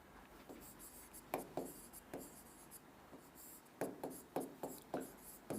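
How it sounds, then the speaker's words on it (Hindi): Chalk or marker strokes on a board form a series of scratchy taps and short scrapes in irregular bursts, close and moderately loud over a low room hum, with no speech. "तो देखो मैं यहां लिख रहा हूं चावल"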